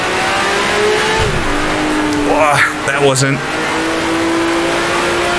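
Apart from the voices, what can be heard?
race car engine revving and gear shifts, Grand Prix Legends video game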